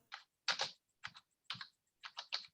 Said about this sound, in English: Yeah, you are banging your keyboard.